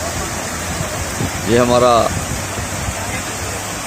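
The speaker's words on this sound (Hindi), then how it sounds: "मुगल रोड का ये बीच में एक झरना।" A waterfall beside the Mughal Road between Srinagar and Jammu gives a dense, steady roar of rushing water close by, with someone speaking briefly over it.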